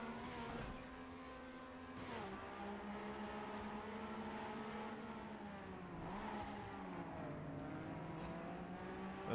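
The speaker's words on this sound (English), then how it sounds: "And there comes the drift." Racing car drifting in TrackMania United Forever, a steady engine drone with a shifting pitch that sags and recovers as the car slides, continuous and fairly close with no talk.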